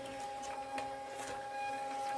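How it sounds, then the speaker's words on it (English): Small label printer from Amazon feeding out labels with a steady whirring motor hum and faint clicks, close and moderately quiet, no talking. "This is a label printer from Amazon."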